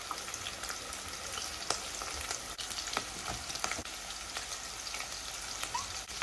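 Potatoes fry in a pan with spices, onions and basil, a dense steady sizzle with occasional clicks of stirring, close and continuous with no talking.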